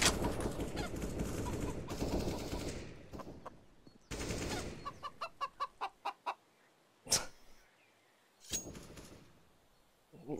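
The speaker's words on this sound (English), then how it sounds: "little chicken making as much noise as possible" A chicken clucks in CS:GO on the Inferno map, a run of short rapid clucks rising out of dense game noise with bursts of gunfire before it and a few sharp shots after.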